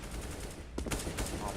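AK rifle fire rattles off in short bursts during a Counter-Strike match, the Immortals vs Gambit grand final at PGL Major Krakow 2017, with a commentator's voice over the shots.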